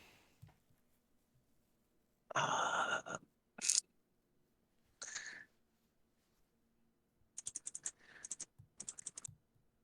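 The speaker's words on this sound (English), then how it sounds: "You're clicking." Sparse clicks and rattles at a desk during a podcast, with a longer burst early on and a quick cluster of sharp taps near the end, faint and spaced apart with no talk over them.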